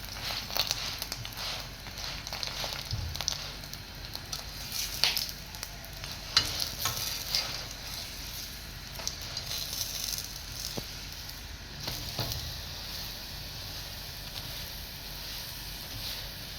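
Roti cooking on a hot pan with a light coating of ghee gives a steady low sizzle and crackle, with occasional soft scrapes and taps as the bread is turned, heard alone throughout.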